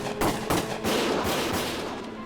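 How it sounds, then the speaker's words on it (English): Gunfire in the Valkyria Chronicles war video game: a few sharp shots pop in quick succession, followed by a dense rattling burst that fades slowly. "Gunfire! Everyone keep your heads down!"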